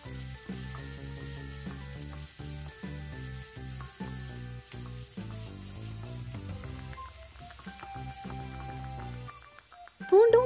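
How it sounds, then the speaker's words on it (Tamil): Crushed onion and garlic fry in hot oil in a kadai, giving a soft, continuous sizzle under tonal background music throughout, ending in a louder burst. "ஆயில் நல்லா சூடு வந்ததுக்கு அப்புறமா நம்ம இடித்து வச்சுருக்க வெங்காயத்தையும் பூண்டியும் இதில் சேர்த்து நல்லா"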